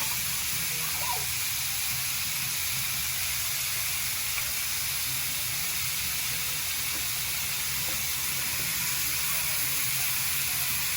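Thin steak meat for a steak and cheese sandwich sizzles steadily in a hot pan, a constant close hiss holding level for the whole stretch with no one talking.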